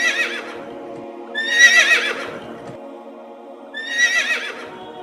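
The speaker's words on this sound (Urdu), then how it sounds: "گھوڑی بار بار پیچھے مڑ کر دیکھتی تھی اور ہنہناتی" A mare neighs twice in clear, loud whinnies a couple of seconds apart, each a quavering, falling call over a faint steady hum.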